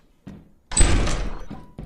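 A door in the video game Lethal Company, heard as a short thud followed by a louder, longer rattling clunk as it opens, close and fairly loud.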